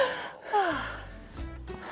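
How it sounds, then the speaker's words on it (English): A traveller carrying heavy bags at high altitude, about 2,200 to 2,400 meters, gives a sharp close gasp and then a breathy exhale, with a low rumble beneath. "I hope this vlog isn't just heavy breathing the whole time"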